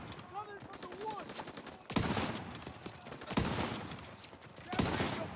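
Gunfire in the video game Call of Duty WWII: bursts of machine-gun and rifle shots crackle in loud, repeated volleys, with shouting voices between them.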